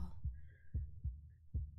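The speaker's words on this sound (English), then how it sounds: "My open chest cavity with my heart beating in front of you" Heartbeat from the game Slay the Princess: four slow, soft, low thumps spaced evenly, each a muffled double beat, with a faint hum between them and no voices.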